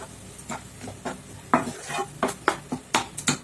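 Masala sautéed in a pan on a stove that is still switched off is stirred with a utensil, making a series of distinct scraping strokes that grow louder and quicker toward the end, with a faint sizzle underneath and no speech.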